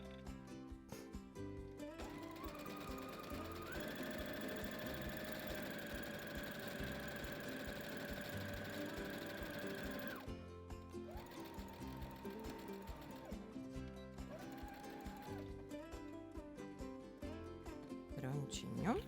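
A sewing machine runs steadily, stitching all the way around a fabric circle, with a sustained motor whine and rapid needle clatter that pauses briefly midway before resuming at a slightly different pitch.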